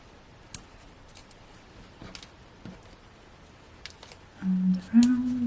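Scissors snipping paper cardmaking toppers at close range, a few quiet scattered cuts followed by a brief tonal squeak and rustle near the end.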